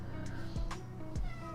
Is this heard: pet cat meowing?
yes